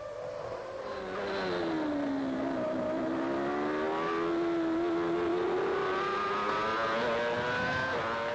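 1995 Formula 1 cars, a McLaren and a Jordan battling for fourth, give a continuous high engine whine that rises and falls through gear changes, loud and steady with no talk.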